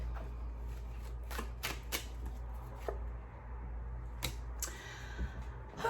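Tarot cards shuffled by hand before a card is drawn, a series of soft, quick riffling flicks and taps in irregular bursts, close and fairly quiet, with no voices.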